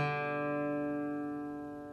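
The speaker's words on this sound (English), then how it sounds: "then an upstroke on that open D" One guitar upstroke on the open D string lets its strings ring out and slowly fade, close up and quiet, with no other sounds.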